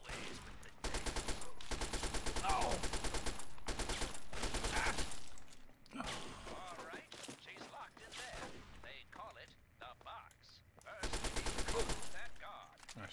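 Gunfire in Fallout 3 arrives in dense, rapid bursts of shots in stretches of several seconds, with quieter gaps and game sounds in between.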